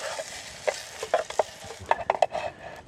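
Steak, garlic and onions sizzle in a pan on a firebox stove outdoors in the desert, with repeated sharp scrapes and taps of a utensil moving the food around, close and busy.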